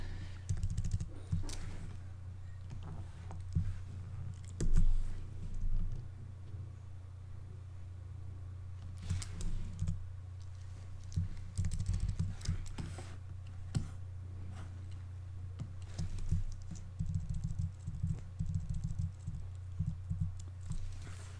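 Computer keyboard shortcut keys pressed during photo retouching, sparse clicks and taps scattered over a low steady hum, with a few brief bursts of quicker key presses.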